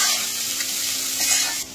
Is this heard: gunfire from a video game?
no